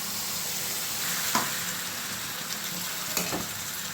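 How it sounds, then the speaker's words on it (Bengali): Meat with spices sautéing in a pan, a steady low sizzle and hiss throughout with a few soft stirring scrapes, close and continuous with no voices. "দেখো সুন্দর করে সাঁতলে নিলাম।"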